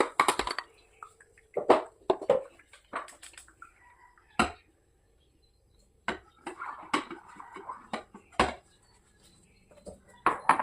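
A child washes dishes, with plates and utensils clattering and clinking in short, irregular bursts separated by quiet pauses.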